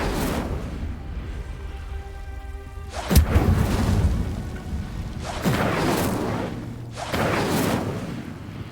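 An Incendio fire spell cast in Hogwarts Legacy, several loud whooshing bursts and booming impacts over a low rumble, arriving in separate blasts a few seconds apart.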